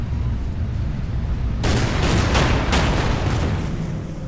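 Secondary guns of the battleship Bismarck fire in a wargame, a sudden loud barrage of several rapid cracking shots that keeps reverberating over a steady low rumble.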